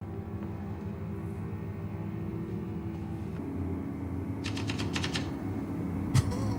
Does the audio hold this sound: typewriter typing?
yes